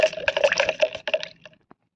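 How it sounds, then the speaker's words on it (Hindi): Turmeric powder stirred into a litre of water, giving a close run of wet sloshing and swirling liquid sounds that taper off to near silence with one last faint splash. "1 लीटर पानी में ये देखिए 1 चम्मच हल्दी का पाउडर अच्छे से मिला लेना है"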